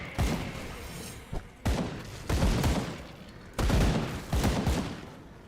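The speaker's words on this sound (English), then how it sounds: "shooting a chain of 7 sniper shots" A chain of sniper rifle shots in the action game Grim Dawn, about six heavy booming reports at uneven intervals, each sharp crack trailing off into a rumbling decay.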